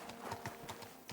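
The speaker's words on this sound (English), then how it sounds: "I don't know why I'm not using my horse." A horse in Kingdom Come: Deliverance II clip-clops in a quick, even rhythm of hoof strikes, close and distinct over a quiet background.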